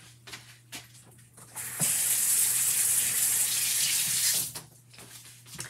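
Tap water gushes steadily into a sink as a chalk transfer is rinsed, a loud broadband rush lasting a few seconds between quieter handling sounds, with a low electrical hum throughout.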